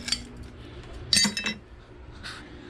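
Broken pieces of greenhouse window glass clink together in a few bright, close, sharp bursts, the loudest near the middle, with brief quiet gaps between them and no talking.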